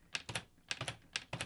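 Keys on a LEGO Ideas 21327 brick-built typewriter clack in three quick bursts of crisp plastic taps, each a short cluster of two or three strikes separated by brief pauses, close and fairly quiet.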